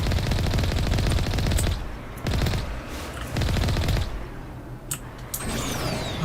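Rapid bursts of automatic gunfire from the Mass Effect video game, loud and close, coming in several long volleys separated by brief pauses, with sharp single shots and mechanical effects near the end.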